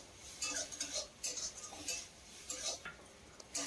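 Spiced lentil dal being stirred in a pot, a spoon scraping and clinking against the metal in a steady, repeated rhythm, fairly close and moderately loud with no voices.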